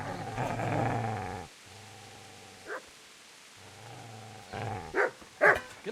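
A dog in Kingdom Come: Deliverance growls low and steady, then breaks into a few short sharp barks and yips, fairly close and unaccompanied by speech.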